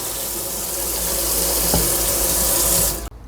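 Cold tap water gushes steadily into a pot over meat for green borscht, a close, continuous rushing splash that cuts off abruptly at the end.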